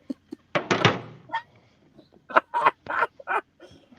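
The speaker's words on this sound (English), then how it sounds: "my camera stand has fallen" A camera stand topples over, giving a burst of clattering thuds and knocks followed by scattered softer bumps, with a voice speaking afterward.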